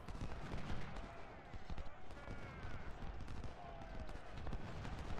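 Musket volleys crackle in the Ultimate General: Civil War battle game, dense overlapping gunfire and rattling shots forming a continuous loud barrage, with a voice talking over it.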